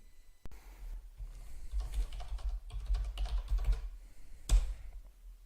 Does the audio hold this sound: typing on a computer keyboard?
yes